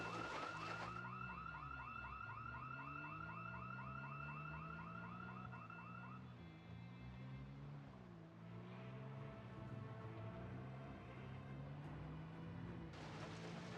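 A car alarm in the video game Project Zomboid blares with a repeating, cycling wail that changes pattern partway through, heard at moderate distance with no talk over it.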